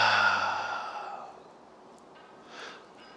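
A long, audible exhale trails off and is followed by a small, soft inhalation, close and quiet, during a breathing exercise.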